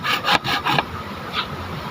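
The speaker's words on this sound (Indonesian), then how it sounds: "resapi, hayati bunyi gerajinya" A hand saw cuts through wood in brisk rasping strokes, three or four quick back-and-forth pulls close and loud, then a fainter stroke after a pause.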